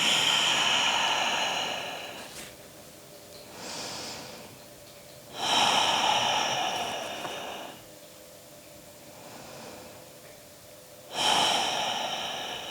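Slow, deep breaths during a quiet yoga relaxation, each long inhale and exhale rising and fading in a steady unhurried rhythm, close and soft with no talking.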